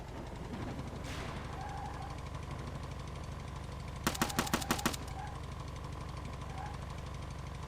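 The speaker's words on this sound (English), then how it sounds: "I don't know what keeps shooting at me." Rapid automatic gunfire in the survival game Outbreak Island, a tight burst of about eight sharp shots over a constant low engine-like drone, mid-distance, without talk.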